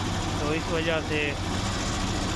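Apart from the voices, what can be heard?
Suzuki Ravi engine idling and misfiring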